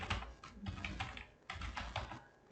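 Rapid typing of Laravel code on a computer keyboard, dense bursts of key clicks in two runs with a brief pause between, close and steady with no talking.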